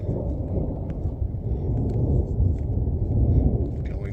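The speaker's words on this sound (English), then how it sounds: "we'll see how the storm shakes out" Heavy, sustained thunder rolls through a storm on a mountain, a deep continuous rumble with rain-like hiss and a few faint ticks on top.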